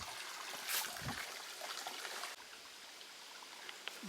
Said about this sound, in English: we come to a wooden bridge crossing a small stream at the outlet of Taylor Pond